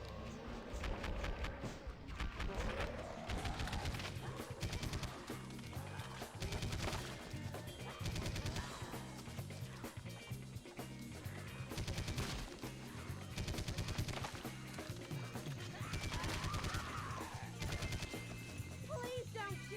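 Video game gunfire, rapid bursts of machine-gun shots and sharp single cracks repeating throughout over loud music, with someone talking intermittently.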